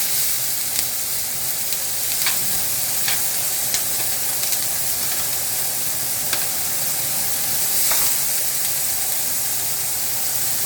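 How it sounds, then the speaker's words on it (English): Onions and carrots sautéing in a pan for braised beef: a constant, even sizzle and hiss with scattered faint ticks of stirring, close and unbroken throughout, no voices. "we're going to saute our onions"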